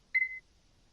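A single short electronic timer beep, clean and fairly quiet, rings out once in an otherwise near-silent room.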